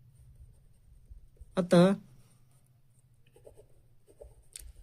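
Writing on a board during a Class 10 arithmetic progressions maths lesson: faint, scattered scratchy strokes over a low electrical hum, with a teacher briefly speaking a word.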